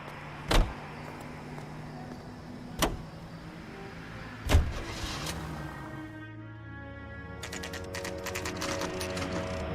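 A car is heard from inside the cabin, a low steady running hum with three sharp knocks or thuds early on and a brighter, busier mechanical texture toward the end; no one speaks.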